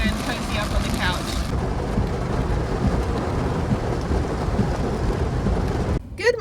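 Heavy rain pours during a hurricane, thick with rumbling thunder: a dense, loud, continuous roar that dips sharply for a moment near the end.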